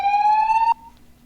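A short electronic alarm siren effect, a loud steady rising tone for under a second that cuts off abruptly, leaving a faint tail.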